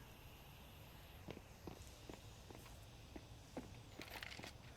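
Footsteps stomp through an apartment area in a Counter-Strike match between Eternal Fire and NAVI at a BLAST Premier event, a faint, steady series of thuds evenly spaced under low game ambience.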